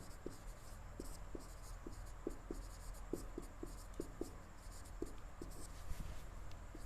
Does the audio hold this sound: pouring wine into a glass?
no